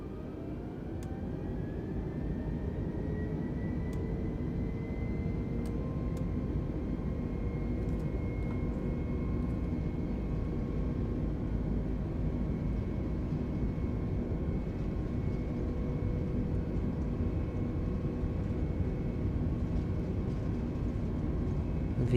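Steady, dense roar of Airbus A320neo engines spooling up for the takeoff roll in Microsoft Flight Simulator 2020, a continuous broadband rumble with a rising whine that holds unbroken throughout, no talking.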